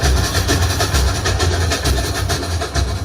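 A train runs steadily with a loud low rumble and a regular clickety-clack of wheels on rails, playing back from a video, close and continuous with no talking.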